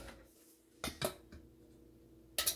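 A metal spoon is picked up from a clutter of kitchen utensils while mixing cake batter, making a few sharp, close clinks and rattles between quiet pauses.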